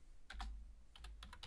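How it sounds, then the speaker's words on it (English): Fingers typing on a computer keyboard, close and crisp: a pair of quick key clicks, a pause, then a faster run of four or five taps over a soft low hum. "Let me just type in one more time here."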